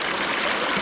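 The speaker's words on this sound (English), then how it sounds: "the water comes down carrying the stuff, it hits this point and it's a drop-off, it drops." Stream water tumbling over a series of small drop-offs on a gold prospecting creek in Pennsylvania, a steady close rushing wash with no break.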